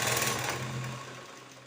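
A sewing machine runs steadily while stitching blouse pieces together, a loud, close mechanical whir that eases off toward the end of the short burst.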